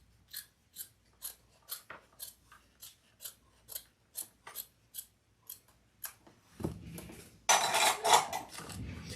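Fabric scissors snip off excess fabric during sewing: a steady run of about fifteen crisp, evenly spaced cuts close by, followed by rustling of the cloth being handled.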